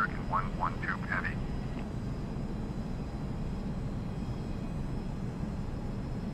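Airliner jet engines roaring steadily through a takeoff run on runway 30, a loud continuous rumble with brief radio chatter near the start.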